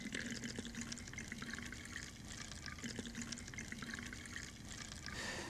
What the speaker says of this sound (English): If I were to take one of these bottles and I were to fill it from this jug, just like this.